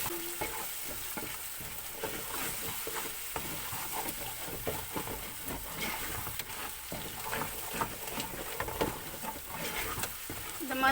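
Yogurt stirred into hot, sizzling masala for Thalappakatti chicken biryani: a steady frying crackle throughout with repeated scraping stirs of a spoon against the pan, close and continuous, no talking.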